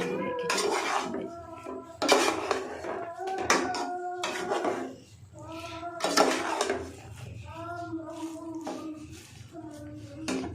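A spoon stirs khichdi in a metal pot, giving repeated close clinks and scrapes in an uneven rhythm, with a voice talking underneath.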